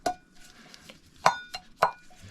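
A 500 milliliter Trangia Micro Light cooking pot handled by hand, giving a few sharp metallic clinks and taps spaced apart over a quiet background.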